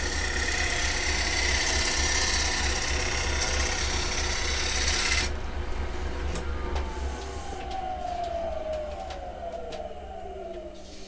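A woodturning chisel bites into unexpectedly hard, in-grain wood on a spinning lathe, giving a loud, steady rasping roar for about five seconds. The cut then lifts off, leaving the quieter hum of the motor as it winds down.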